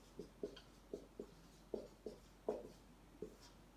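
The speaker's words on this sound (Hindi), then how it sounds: "तो मैं अगला एग्जांपल लिख देता हूं इसका।" Chalk or marker strikes a classroom board in short, sharp taps and strokes, about eight separate close marks spaced irregularly across a few seconds in an otherwise quiet room.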